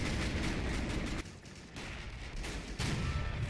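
Gunfire in the World War II strategy game Men of War: Assault Squad 2, a steady crackle of shots and distant bursts that dips briefly and then picks up again, with no talking.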